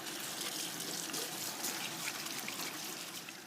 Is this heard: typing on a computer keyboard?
no